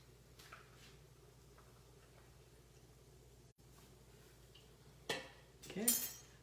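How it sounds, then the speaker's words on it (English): A spoon gives a quick stir to a ginger beer cocktail in a glass, with a few faint clinks near the end after a quiet stretch. "Okay, a quick stir."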